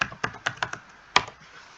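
Keys are tapped on a computer keyboard to enter an advance payment amount in payroll software, a close, uneven run of about six crisp strokes with a louder final keypress, no talking.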